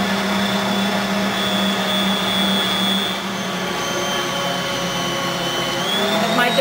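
A stand mixer kneads whole wheat bread dough on speed 2, giving off a steady loud motor whine with a sustained hum that stays even throughout.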